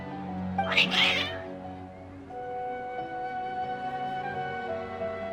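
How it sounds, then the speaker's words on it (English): Two or three cats meow loudly and close by in the video game Genshin Impact, overlapping in a short burst, then music with sustained tones continues underneath. "Your cats seem pretty worked up."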